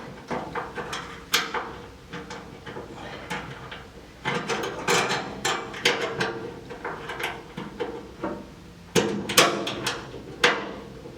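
A socket wrench ratchets and clanks against GT3 road race car chassis parts in close, irregular bursts of clicking and metallic knocks, with short pauses between turns.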